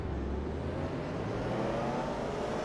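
Porsche race car engine accelerating at a race start in the RaceRoom racing game, a steady, fairly faint whirring engine drone that rises slightly in pitch, alone with no talk.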